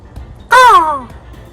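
A voice mimics a crow's caw in a single drawn-out, descending call lasting about half a second, loud and close against a quiet background.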